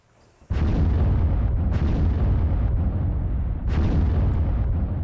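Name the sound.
missile strike explosion on a house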